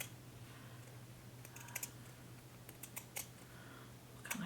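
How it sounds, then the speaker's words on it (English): Pinking shears snipping through fabric for quilted fall-themed coasters, a few faint, sparse crisp clicks and cuts over a steady low hum, with no talking. "I'm going to use the pinking shears on this one."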